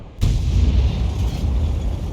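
A big-bore shot from the Object 261 self-propelled gun in a video game, a sudden deep boom that rolls on as a loud, sustained low rumble for the rest of the moment.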